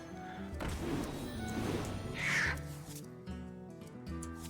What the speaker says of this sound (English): there's the owl